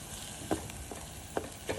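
Onions fry with ginger-garlic paste in a pan, giving a soft, steady sizzle. Four light stirring taps fall at uneven intervals, quiet and close, with no talking.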